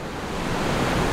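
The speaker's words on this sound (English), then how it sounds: "Drip Falls in Tasmania" Waterfall at Drip Falls, Tasmania, a loud, close, steady broadband rush of falling water with no pauses.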